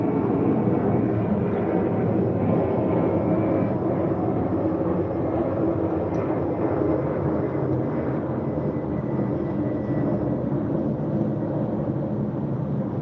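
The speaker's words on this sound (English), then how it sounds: "The planes are so loud nowadays." Loud, steady roar of airplanes passing overhead near an airport runway, a continuous broadband rumble that holds for the whole stretch without a break.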